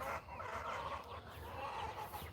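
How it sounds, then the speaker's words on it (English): A loose chicken clucking outside its coop on a farm, soft continuous clucks and chatter at a distance over faint outdoor ambience, with no talk. "Oh, there's a chicken out."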